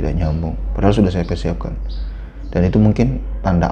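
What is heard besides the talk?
None of the usual background noises is heard.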